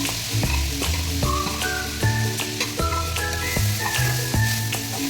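Drumstick leaves and water spinach greens with green chilli fry in a kadai, a steady close sizzle running throughout beneath louder background music.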